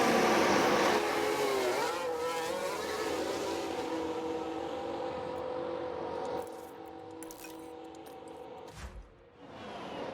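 An F1 race car in the F1 Manager 2022 video game driving into the pit lane at the French circuit, a steady high engine tone holding and easing off, moderately loud with a brief mechanical clatter near the end.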